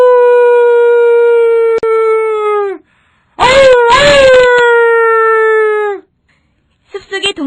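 A loud, close howl with sustained wavering tones rises and falls in two long drawn-out calls, the second broken by brief gaps, followed by a shorter burst at the end, like a wolf baying in a forest.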